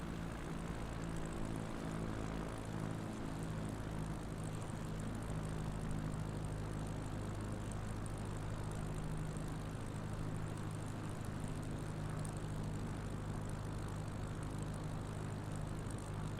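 A propeller airplane engine in MS Flight Simulator drones steadily at a constant, even pitch, a continuous buzzing hum with no pauses or voices.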